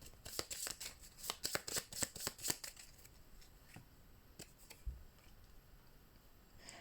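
Playing cards from a Marvel Champions deck are flicked and riffled rapidly for a few seconds, then a few sparse, quiet card slides and taps follow as the search slows.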